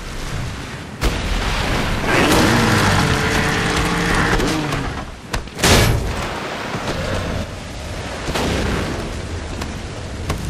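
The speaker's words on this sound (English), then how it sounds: "as you probably noticed from all that fire coming out of his hand, you don't play just any Big Daddy in BIOSHOCK 2" Fire blasts from a Big Daddy's hand in the BioShock 2 game, a loud sustained roaring whoosh of flame with crackling bursts and a sharp explosive hit midway, dense and close.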